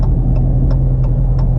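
A Dodge Challenger SRT drives past with a loud, steady low engine rumble and throbbing exhaust, close by, with faint repeated ticks over the drone and no talking.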